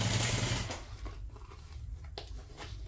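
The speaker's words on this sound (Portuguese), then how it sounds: "eu vou vir pra máquina e vou passar uma costura de um pé de máquina aqui" A sewing machine runs in a short burst of rapid, close stitching on fabric, then stops, leaving faint handling noises and light taps.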